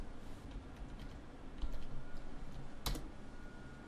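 Fingers typing a URL on a computer keyboard: a run of soft, close key clicks at an uneven pace with one sharper tap near the end, no voices.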